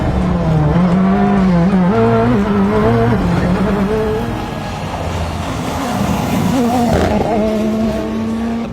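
A Ford WRC rally car on a French championship rally stage, its engine note rising and falling through gear changes at close range, loud and continuous with a brief dip midway.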